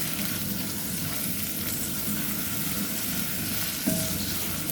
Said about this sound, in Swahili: Kwanza tunapika kitunguu ikuwe ready.